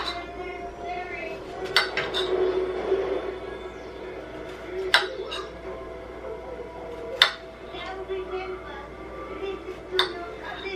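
Knife cutting food in a bowl, with a few sharp clinks of utensil against dish spaced a couple of seconds apart over a quiet kitchen background.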